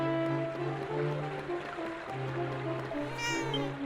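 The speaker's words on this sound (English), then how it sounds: "The cat is glaring at the party with contempt in its eyes." A cat in Dragon Quest VII Reimagined lets out a meowing cry over a steady layered musical and ambient background, moderately loud and continuous.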